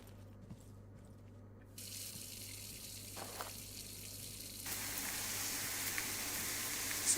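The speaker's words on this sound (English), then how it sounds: "You get no guidance as to where you're pouring." Liquid pouring in the video game Low-Budget Repairs, a steady watery trickle like a running tap that swells louder partway through and holds on as a continuous pour.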